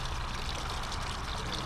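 Water pours and trickles through a homemade low-budget backyard pond stream and waterfall, a steady soft rushing splash that holds evenly throughout with no voices.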